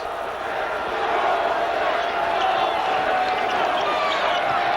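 A Pitt student section crowd roars wildly during a college basketball game against Notre Dame, a dense, loud, steady wall of cheering and shouting heard up close.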